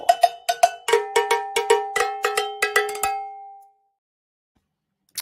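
A cowbell stream alert rings out in a quick run of bright metallic clanks, about a dozen hits in a steady rhythm, loud and close, then the ringing fades to silence before one last short tap near the end.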